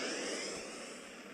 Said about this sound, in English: Starting warp engine.